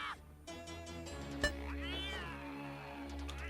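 A cat meows in the Dragon's Lair video game with a drawn-out, rising and falling cry over background game music, marked by a sharp click partway through.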